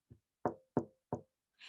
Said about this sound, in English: At that moment, Mr. Cream heard a quiet little knock at the front door.